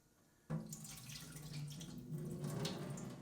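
Tap water suddenly runs after a quiet start, splashing steadily into a pot of rice being washed, a close, rushing stream that grows slightly fuller over the few seconds.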